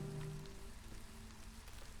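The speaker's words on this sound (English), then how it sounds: "There's also the storm, which right now it's basically just been drizzly." Light drizzling rain patters steadily and softly in the fantasy settlement game Against the Storm, a faint continuous hiss with a brief tonal hum at the start and no voices.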